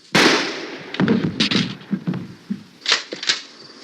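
One sharp, loud gunshot cracks at the start, from a zombie horror film set around a besieged farmhouse. A few fainter knocks and thumps follow.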